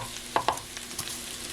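Rice being stirred into hot bacon fat with softened vegetables in a pan for Spanish rice, giving a steady low sizzle with a few scraping clicks of the spoon near the start.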